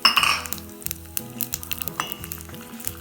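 Red chilies and a little urad dal sizzle and fry in a hot pan with oil, with a bright crackle at first that settles into steady sizzling, plus a few light clinks of a utensil against the pan.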